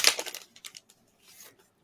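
Signed comic book pulled from a plastic bag: a brief crisp crinkle and rustle of plastic at the start, then a few soft scattered crackles fading out, close and quiet.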